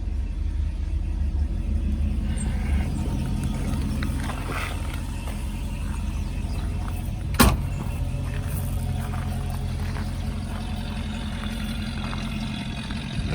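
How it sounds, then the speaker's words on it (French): A 1967 Ford Mustang convertible's top folds down into its storage compartment over a steady low engine idle and motor hum, with a single sharp click about halfway through. "la capote se range très très bien dans son compartiment"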